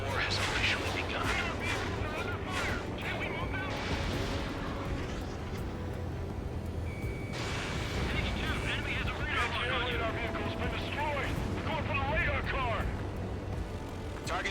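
Anti-aircraft guns pound and explosions rumble in the Ace Combat 7 jet combat game, a dense continuous barrage beneath jet noise, with voices talking over it.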